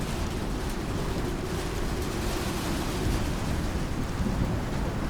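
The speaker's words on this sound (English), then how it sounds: "I wish you could sleep through the storm sometimes." A thunderstorm rages in the survival game Icarus, a dense, steady roar of heavy rain with deep rumbling underneath, continuous and fairly loud throughout with no voices.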